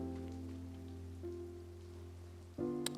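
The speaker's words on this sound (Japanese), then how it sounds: "あれ、雨だ。" Rainfall in the Genshin Impact video game, a steady wash of falling rain layered over sustained in-game ambience and music tones, with a brief brighter chime near the end and no talking.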